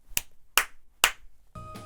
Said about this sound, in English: He clapped 3 times in the interview